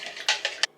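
Mixture stirred in a bowl, giving three or four quick clinks and taps of a utensil against the container within less than a second, close and fairly crisp.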